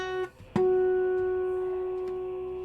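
An open G flat guitar string is plucked once and rings out as a normal note, rich in overtones and slowly decaying. A brief cut-off note comes just before it.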